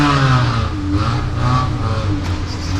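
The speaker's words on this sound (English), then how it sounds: "These guys have a big delivery truck that I think is diesel. I'm not quite sure, but that thing is cranking loud" A big diesel delivery truck engine roars loud and steady nearby, a continuous rumbling drone with slight rises in pitch.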